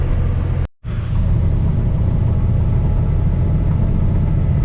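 A 1966 Ford Mustang Shelby GT350 clone rumbles steadily while cruising down the road, its loud, even engine drone briefly cutting out for a moment before resuming.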